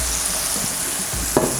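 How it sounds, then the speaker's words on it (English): Mushrooms frying in butter in a hot pan as Beef Wellington filling, a steady close hiss of sizzling with a few sharp clatters near the end. "Mushrooms in, like so. And you're going to fry all these mushrooms off."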